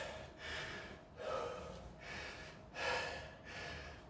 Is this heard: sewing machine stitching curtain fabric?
no